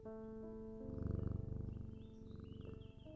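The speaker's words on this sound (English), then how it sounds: "This is my cat, Juniper." Juniper, a cat in the video game Strange Antiquities, purring in a close, steady rhythmic rumble under soft sustained music tones.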